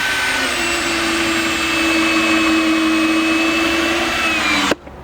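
A Dewalt cordless power tool running on its second battery gives a steady, loud motor whine with a constant pitch, holding for several seconds before cutting off abruptly near the end.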